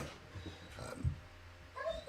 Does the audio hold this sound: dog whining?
yes